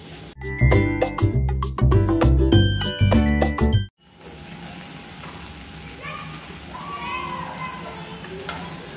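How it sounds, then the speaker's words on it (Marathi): Sliced tomatoes sauté in a pan for a chicken fry, with sharp metallic clanks of a spoon stirring against the pan for the first few seconds, then a softer steady sizzle with faint voices. "टोमॅटो जरा मऊ होईपर्यंत परतून घेऊयात।"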